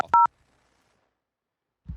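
Telephone keypad dialing gives one short dual-tone beep near the start, followed by silence and then a low murmur at the end.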